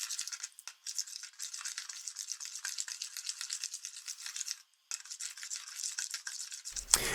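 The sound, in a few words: stirring liquid to dissolve yeast for baking dough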